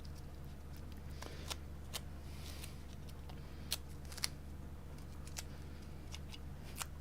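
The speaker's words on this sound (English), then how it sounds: "Get the tape down." Tape being pulled and pressed down during reassembly of a MacBook on a repair bench: sharp, sparse crackles and snaps of peeling tape over a low steady hum, close and quiet, with a few louder tearing clicks.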